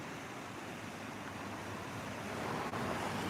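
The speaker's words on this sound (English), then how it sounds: "Beautiful river." The Arkansas River at Cotopaxi, Colorado rushes past in a continuous broadband roar, steady and fairly loud with some wind buffeting, swelling slightly toward the end.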